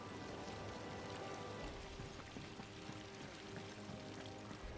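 Water pours continuously from crystals in Final Fantasy XVI, a soft, steady splashing trickle heard faintly and alone.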